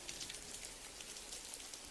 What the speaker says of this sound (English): it's still sunny, even though it's raining like this